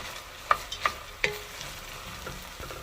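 Ground beef with cumin and pepper sautés in a pan with a soft, steady sizzle, broken by a few scraping clicks of a utensil stirring the meat, quiet and close with no one talking.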